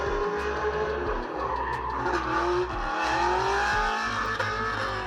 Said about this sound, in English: Oh, drifting in the KSA.